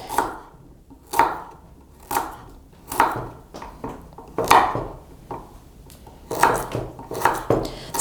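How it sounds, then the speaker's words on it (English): Knife chopping carrots on a board in a colonial-style kitchen: sharp, close thuds land in an irregular rhythm, about a dozen cuts with brief pauses, alone without talk. "Now I'm going to chop up a carrot or two."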